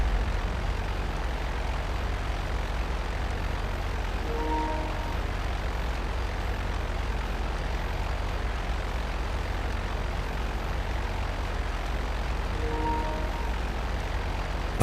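Aircraft fly overhead in GTA Online, including a B-11 warplane. Their engines make a continuous, even low drone that fills the whole stretch without rising or fading.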